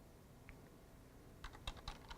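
Quick burst of keyboard typing, about half a dozen light clicking keystrokes in a short run after a near-silent pause, faint and close, with no talking.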